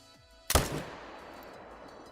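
A single rifle shot cracks out sharply during a fallow deer hunt at Te Awaroa, loud and close, then decays into a longer rolling echo across open country while the surroundings stay otherwise quiet.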